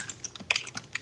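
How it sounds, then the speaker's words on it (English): Rapid, crisp clicks of typing on a computer keyboard, with irregular quick keystrokes close to the mic at a moderate level and no talking. "Who's typing?"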